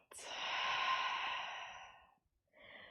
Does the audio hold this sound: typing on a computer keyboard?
no